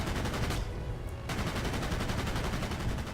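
Rapid aircraft machine-gun fire from an F3F fighter in a flight combat video game, a loud continuous rattling burst that pauses briefly and then resumes, filling the whole clip.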